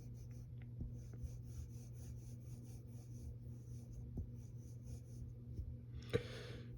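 Pencil drawing lines on paper, soft scratchy strokes repeating in a steady rhythm, close and faint over a low hum, with a brief louder rustle near the end.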